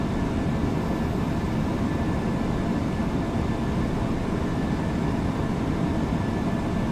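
A PMDG 747 airliner descends in a flight simulator, giving off a steady, dense cabin-and-engine roar that holds at the same loud level throughout with no voices.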